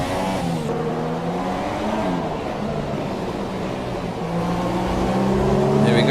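A race car engine in a racing video game revs hard with a rising whine and brief wheel spin on a corner exit, loud and continuous with shifting engine tones.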